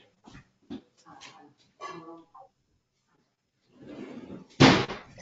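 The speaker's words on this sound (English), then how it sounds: "I just have to close the door." A door is pushed shut with a single loud slam near the end, after scattered sounds of a dog whimpering and panting nearby in a quiet room.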